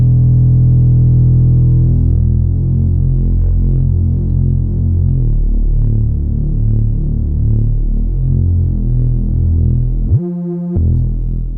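A deep synth bass patch on a Korg Volca Keys hums and throbs with a wide, wobbling low tone as its detuning is adjusted, sustained and loud, changing notes a few times before a short break and a final note.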